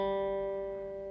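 A single picked guitar note on the G string rings out clear and steady, sustaining with a slight fade over about a second.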